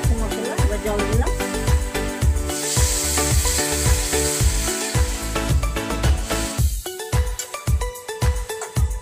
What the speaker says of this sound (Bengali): ভাজা হয়ে গেছে মশলা, এবার জল দিলাম।